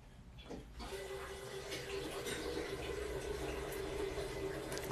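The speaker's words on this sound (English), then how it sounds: "I'm gonna fill up 2 big water things." Water runs steadily from a tap to fill two big water containers, a constant rushing flow with a rising filling tone that lasts the whole stretch after a brief quieter start.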